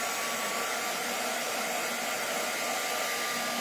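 A hair dryer runs steadily and close by, a continuous broadband whoosh with a faint tonal whine, held at even loudness throughout with no voices.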